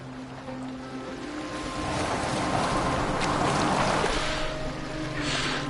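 A boat moves across open water in Assassin's Creed, with a steady wash of waves and hull splashing that builds and holds, plus faint low tones beneath and no voices.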